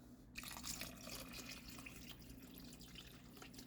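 Water pours steadily into a pot of vegetable beef soup, a continuous close splashing and trickling that holds evenly throughout with no talk over it.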